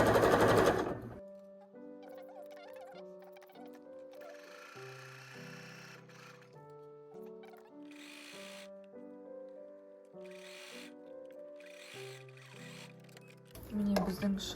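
A sewing machine stitches a bralette seam in a run of steady mechanical whirring that shifts in pitch as it speeds up and slows down, with someone speaking at the start and end.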